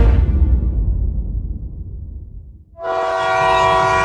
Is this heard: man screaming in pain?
no